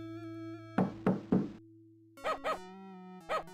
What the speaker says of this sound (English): Let's see what happens when we try and knock on the door